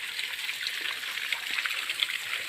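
Shallow, clear water of the Narmada river flowing along its bank, a steady bright trickle and babble with scattered splashy drips, close and continuous with no talking.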